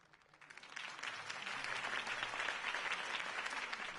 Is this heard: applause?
yes